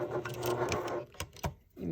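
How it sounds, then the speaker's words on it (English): Sewing machine stitching over a thick, heavy denim tote strap cut from old jeans, the motor whirring in short bursts with brief pauses as the presser foot eases over the bulky layers. "we're going to ease that presser foot over it"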